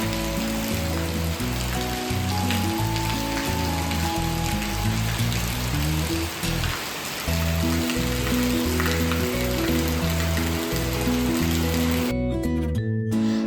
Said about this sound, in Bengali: এই তো এটা হচ্ছে সেই বৃষ্টির স্যাটিসফাইং শব্দ।